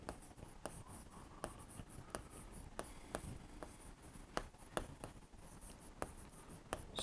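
Marker or chalk writing on a classroom board during an accountancy lesson, with faint scratchy strokes and a string of small taps as characters are formed, quiet and close, with no voice over it.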